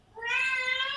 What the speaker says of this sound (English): Your cat screaming, that's scaring me the most.